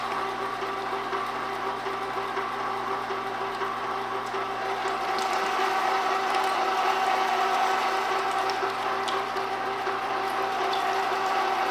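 A Vevor Model 90800 commercial meat grinder runs steadily with a constant mechanical whir and gear hum, loud and close, growing slightly louder midway with faint clicks, no talking.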